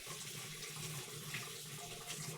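Tap water running into a sink while a bowl is rinsed, a close, steady splashing stream of moderate loudness with no talking.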